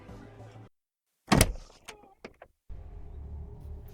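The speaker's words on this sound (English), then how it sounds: "He closes the door behind you" A door swings shut with a sharp, close thud followed by a few lighter rattles and clicks, set amid a quiet background hum in a Shadowrun tabletop role-play session.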